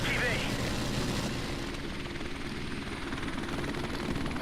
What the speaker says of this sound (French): Notre drone est activé.